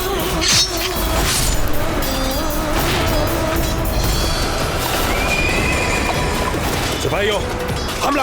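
Horses neigh and whinny loudly amid the clatter of a battle, with hooves clopping and crashes behind them, under shouted speech throughout.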